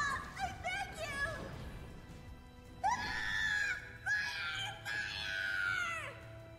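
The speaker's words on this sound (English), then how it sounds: "Don't you hear all that screaming?" Battle screaming from the video game Drakengard 3 sounds as a series of high, drawn-out wails and shrieks, mostly in the second half, over a low rumbling background.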